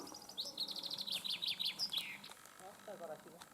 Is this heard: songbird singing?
yes